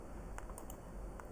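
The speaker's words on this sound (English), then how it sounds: "use the keyboard shortcut Windows plus colon" Faint, soft computer keyboard taps, a few quick key presses for a Windows shortcut, over steady background hiss.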